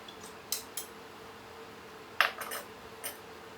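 A few sharp metallic clinks and taps as two cans of cream of mushroom soup are handled and emptied into a cooking pot for a beef noodle casserole, scattered brief knocks over a quiet room background.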